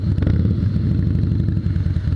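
A Harley-Davidson 2016 Softail Slim S with its 110 engine rumbles loud and close, a deep pulsing V-twin throb with rhythmic chugging and slight mechanical clatter, steady throughout without talk.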